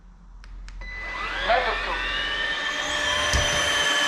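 Osotek H200 robot vacuum cleaner starting up and running, a steady whirring motor hum with rising tonal whine that builds after a few clicks, close by, with a voice speaking briefly over it.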